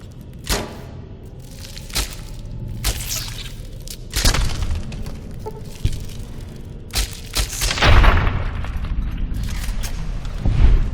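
Silenced .22 pistol fire in Fallout: New Vegas, sharp muffled shots spaced irregularly amid game combat noise, impacts and rumbling ambience, with no talk.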